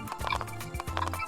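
A mountain horse in Roblox whinnies with a rhythmic clip-clop of hooves, near and steady, no talking.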